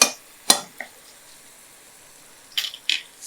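Chicken pieces cook in a pan over a slow flame with a faint, steady sizzle, broken by a few sharp clinks and scrapes of stirring, and no one speaks.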